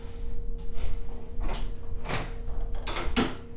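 A wooden drawer on a homemade distillery cart slides and knocks, giving a series of short scraping and thudding bursts close by, with no talking.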